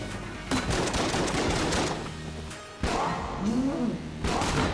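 Grenade launcher firing in Exit the Gungeon, a run of loud, close bursts and blasts with brief gaps, amid busy game effects.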